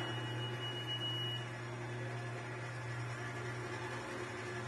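A stand mixer fitted with a bread hook kneads wet bread dough, giving a faint, steady motor drone that holds even throughout with no breaks.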